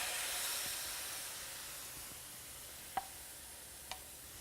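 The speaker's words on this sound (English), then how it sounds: "I'm going to add in the tomatoes." Tomatoes hit a hot pan while cooking palak paneer, giving a steady, faint sizzling hiss throughout, with two brief clicks from the pan near the end.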